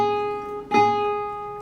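A single pluck of the high A string on an eight-string guitar, tuned off pitch, rings out twangy and banjo-like, sustaining close and clear before slowly decaying.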